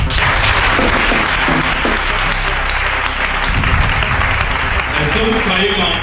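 A church congregation applauds and cheers to acclaim Jesus, a dense, loud wash of clapping with shouting voices mixed in throughout.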